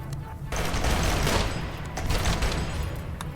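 Gunfire in the video game RimWorld crackles as a dense, continuous fusillade of overlapping shots, loud and steady with no talk over it.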